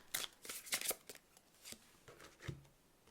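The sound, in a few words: oracle cards being shuffled and pulled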